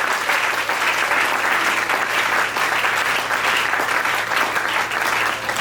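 A church congregation claps in sustained, dense applause, loud and close throughout the whole stretch.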